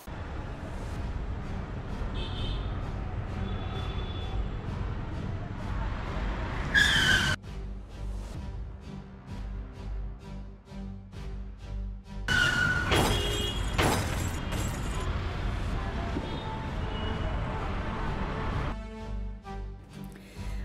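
A vehicle carrying pilgrims skids and overturns on a road, caught on CCTV: steady engine and road rumble, then sudden loud crashing and shattering bursts with squeals, followed by noisy aftermath.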